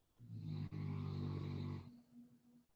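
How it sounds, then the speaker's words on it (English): A dog named Titan snoring, one long, loud, buzzy rasping breath heard up close, followed by a fainter trailing exhale, with no speech. "Is that Titan snoring or something?"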